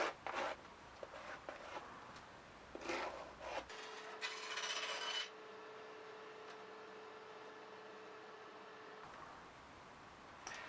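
Wooden guitar back and top plates are thickness sanded, first with scratchy, irregular rasping strokes, then with a steady mechanical whir that holds for several seconds before the scraping resumes.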